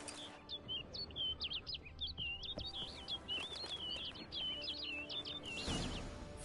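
Bird in The Witcher 3 chirps in quick, repeated high tweets, a busy run of short notes over faint low background noise, fairly quiet and without voices.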